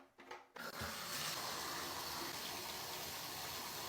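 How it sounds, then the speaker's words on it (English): Water gushing steadily from a bathtub tap to fill home exercise weights, a brief clatter at the start before a constant loud rushing stream. "I'm gonna be filling these up in the bathtub"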